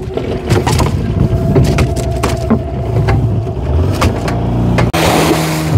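A fishing boat's engine runs steadily at sea during a yellowfin tuna trip, a continuous loud motor drone with some rumble, holding through the whole stretch with a brief shift near the end.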